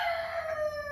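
A seven-month-old American Bresse cockerel in a cage gives one short, close call that slides slightly downward in pitch.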